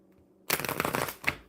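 A deck of mermaid oracle cards is shuffled once, a quick close riffle of papery flutters lasting about a second after a short quiet start.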